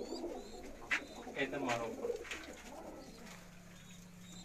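Firozpuri and Banka pigeons give soft, rolling coos close by, partly overlapping someone speaking briefly, followed by a quieter stretch with a low steady hum.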